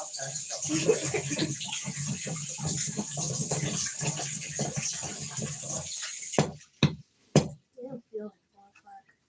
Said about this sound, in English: Cold water. Rinse it in cold water.